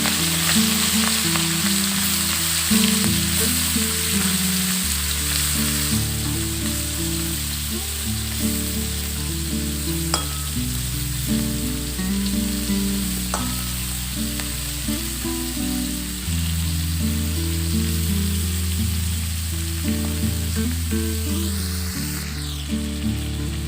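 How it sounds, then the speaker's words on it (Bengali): Salted, turmeric-coated prawns fry in hot oil in a pan, a loud continuous sizzle and crackle with occasional stirring sounds, no voices. "তেলটা গরম হয়ে গেছে, আমি এর মধ্যে চিংড়ি মাছগুলোকে দিয়ে ভেজে নেব।"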